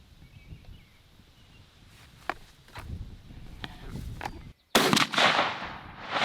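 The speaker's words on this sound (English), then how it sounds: "first up we're going with the top dollar load, the Black Cloud 3-inch 4-shot, 40 yards out of the Patternmaster long range in the Franchi AFFINITY 3" A Franchi Affinity 3 shotgun with a Patternmaster long range choke fires a Black Cloud 3-inch 4-shot load outdoors, one sharp, loud blast late in the clip. A few faint pops and footsteps come before it.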